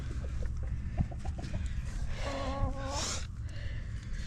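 A hen clucks from beneath a Yamaha Warrior 350 ATV during an oil change, a run of several short clucks followed by a drawn-out squawking call, close by over steady background noise.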